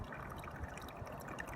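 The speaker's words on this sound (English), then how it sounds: "now I'm adding water to the soil" Water is poured onto soil in a wine barrel planter, a faint, continuous soft trickle and splash with no talk.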